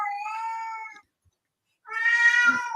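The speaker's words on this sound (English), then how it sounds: "The cat wants out, and we won't let him." A house cat meows twice, wanting to be let outside: a drawn-out, tonal cry, a short silence, then a second, louder and more strained meow, close and clear with no talking.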